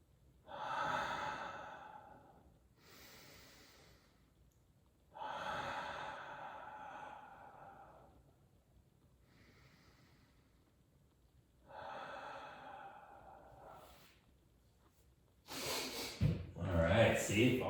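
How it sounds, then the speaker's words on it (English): Slow, deep breaths during a kundalini yoga session, long audible inhales and exhales repeating every few seconds, fairly close and soft, ending in a louder burst of rustle or movement. "Take a couple breaths."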